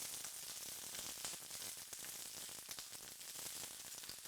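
Three or four sliced garlic cloves sautéing in a pan for a kale salad: a faint, continuous hiss and crackle of oil with fine popping, steady throughout and free of talk.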